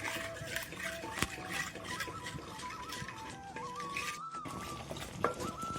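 Lentils and jaggery being stirred together in a pan for Onam parippu payasam, a steady close scraping and stirring with soft clinks of the spoon, continuous throughout with no talk.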